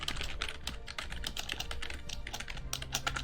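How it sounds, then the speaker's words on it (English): Rapid, continuous clicking of keys on a computer keyboard, close and fairly quiet, in dense bursts with no pauses. "I'm busy typing"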